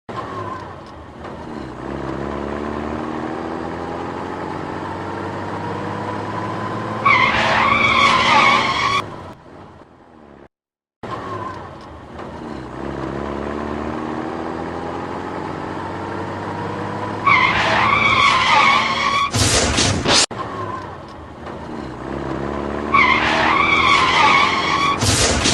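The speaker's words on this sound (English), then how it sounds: "Warning, the following video shows car crashes." Cars skid with loud squealing tires and engines roaring in a series of crashes, the drawn-out screeches repeating in several passes with sharp impact-like bursts near the ends, close and loud, with a brief dropout between sequences.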